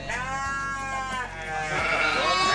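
Sheep bleat repeatedly in a pen, the harmonic calls overlapping one another and staying fairly close and loud throughout, with no talk.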